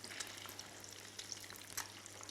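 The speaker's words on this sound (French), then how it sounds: "On va les voir frire un petit peu la dernière" Food fries in a pan with an even, close crackle and sizzle. Small pops and spits stand out now and then, and no one talks.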